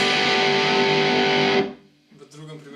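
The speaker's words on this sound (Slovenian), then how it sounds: "Igram power akorde, ker bare akordi ne pridejo v poštev pri zraven distorzije" An electric guitar power chord with distortion rings out loud and sustained for over a second, then is choked off, leaving faint fretboard noise and string buzz.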